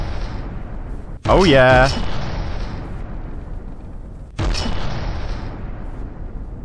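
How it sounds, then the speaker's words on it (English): Heavy gun salvo blasts in the From the Depths combat game: two loud, booming explosions a few seconds apart with rumbling tails, and a man exclaiming over the first. "I think we must have taken out his gun in the first salvo"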